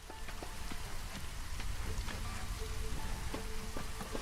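Light drizzling rain patters steadily in Against The Storm, a soft continuous hiss dotted with scattered drops and faint tones, with no talking.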